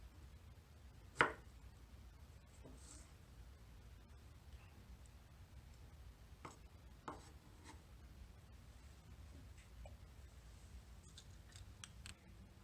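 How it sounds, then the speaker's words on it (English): Knife chopping strawberries into bite-sized pieces on a board, a few sparse, quiet taps and cuts spread out over a soft, low background. "take our strawberry and very safely, using the claw, chop it up into bite-sized pieces"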